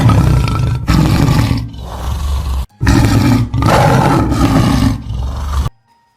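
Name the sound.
tiger roar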